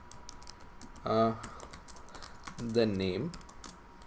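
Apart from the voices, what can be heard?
typing code on a computer keyboard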